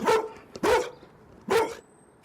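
Dogs bark in a residential neighbourhood: three loud, close barks in an uneven rhythm, with short gaps of quiet between them.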